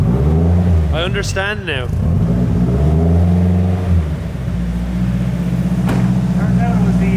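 A Nissan S15 engine held at steady high revs by a throttle stuck open, a loud continuous drone running under a voice that speaks briefly.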